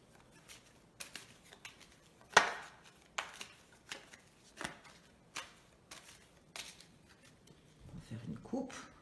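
A deck of tarot cards being shuffled and cut, heard as a series of sharp riffling snaps and flicks at an irregular pace, close up. A voice talks briefly in the background.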